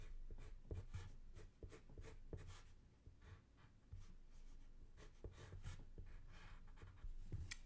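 Pen or pencil drawing a shirt on paper, close scratchy strokes in irregular bursts with short pauses between them, quiet and alone.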